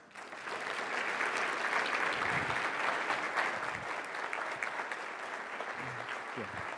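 Sustained applause from a seated audience at a 2013 Century Management client review, welcoming speaker Arnold Van Den Berg, building quickly and then slowly thinning, with a few voices beneath.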